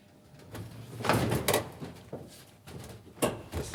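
An aircraft cabin door being shut by crew at the end of a long delay, heard as a few close clunks and knocks with a sliding, latching quality, spaced over a few seconds against a low background hum.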